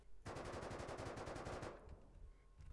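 Semi-automatic rifle fire in the game Rust, aimed at a wooden building wall: a rapid, evenly spaced burst of about a dozen loud shots that stops abruptly, followed by a quieter tail.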